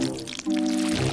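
Soft chocolate paste pours and drips in a brief, close, wet gush with a steady liquid flow, louder in the second half.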